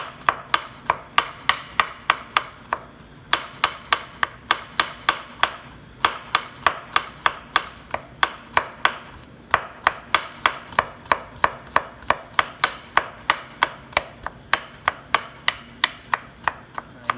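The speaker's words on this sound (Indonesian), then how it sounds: "bawang putihnya kita cacah ya. Kita cacah kayak gini biar gampang terlarut sama air." A knife chopping garlic on a cutting board in a home kitchen while making salted eggs, with steady, rapid, crisp taps repeating for many seconds, briefly pausing between bursts, loud and close with no talking.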